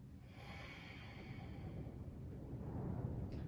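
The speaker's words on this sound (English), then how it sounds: "One more breath." Slow, steady breathing held during a yoga pose, close and soft with a long airy exhale at the start and a continuous low hush beneath, no talking.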